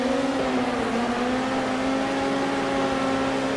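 A midget race car engine on a dirt track, racing at the Chili Bowl Nationals. It drones loudly and steadily at high revs, with a whining engine tone that rises and falls slightly as the wheels spin.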